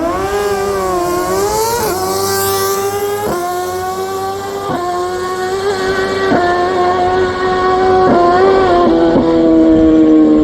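Nitrous-fed street bike with an NOS Mini kit on a drag racing pass, its engine screaming loud and close, climbing in pitch through each gear, then dropping sharply at every shift, about six times in a steady sequence.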